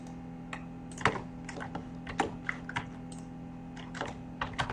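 Fingers tap out a roll number on a computer keyboard in quick, irregular clicks, soft and close, with no talk.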